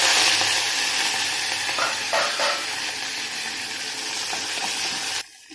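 Mustard seeds, cumin, fenugreek, onion, curry leaves, green chilli and garlic sizzle and crackle steadily in hot oil, a close, continuous frying hiss with light stirring clinks, ending abruptly.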